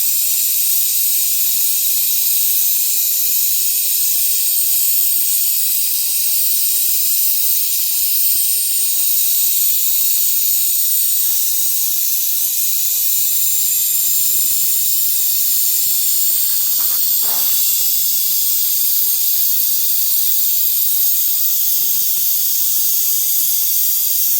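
Steady broadband hiss of a welding torch flame burning in a workshop, continuous and fairly loud throughout, with a few faint metallic clicks near the end.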